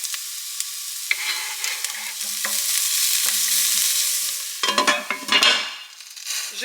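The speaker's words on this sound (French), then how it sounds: "J'ajoute mes gousses d'ail hachées." Minced garlic cloves sizzling as they hit onions frying in a pan, a steady bright crackle with a few stirring scrapes and a louder burst of spattering toward the end.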